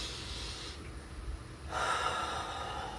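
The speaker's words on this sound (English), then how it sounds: "Nice, slow, deep breaths." One slow, deep inhale is drawn through the nose close to the microphone, an airy rush that pauses briefly and then resumes as a longer, fuller breath in.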